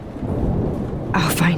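Thunderstorm with heavy rain in the video game Life is Strange, a deep rolling rumble of thunder over steady downpour, ending in a sharp bright crack, loud and near.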